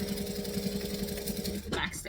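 A sewing machine runs a back stitch on a backpack with a steady, droning mechanical whir, close and continuous, then a short shift in sound near the end.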